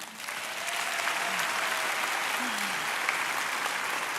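An audience applauds to welcome speaker Shauna Niequist at a conference event, a dense, sustained wash of clapping from a crowd that builds quickly and holds steady throughout.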